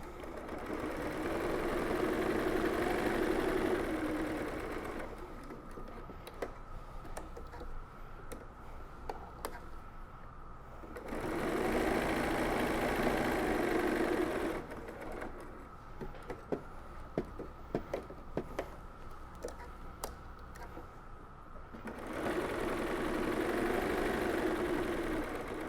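A sewing machine stitches fabric for reusable makeup pads, running in steady whirring stretches that alternate with quieter ticking, clicking pauses as the fabric is turned, close and continuous with no voices.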